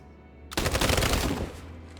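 Rapid automatic gunfire from a soldier in Detroit: Become Human, a loud dense burst starting abruptly after a quiet moment and lasting about a second before cutting off, leaving a low hum.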